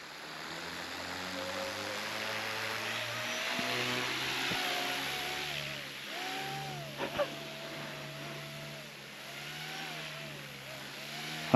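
An RC helicopter's engine and rotor running with increased blade pitch, giving a steady droning whine whose pitch wavers and dips repeatedly as the load changes, heard fairly close and continuous.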